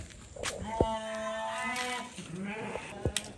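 Garut sheep in a pen, with a clear drawn-out bleat nearby, a second fainter bleat after, and light thumps and knocks around them.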